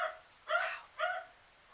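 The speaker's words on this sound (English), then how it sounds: "I apologize if you can hear the dog." A small dog barks twice indoors, two short, fairly faint yips about half a second apart, with no talk over them.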